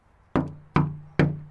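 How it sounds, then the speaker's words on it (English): Three firm, evenly spaced knocks on a door, each a sharp, solid thud with a short resonant decay, close and clear against near silence. "Right, always 3 knocks."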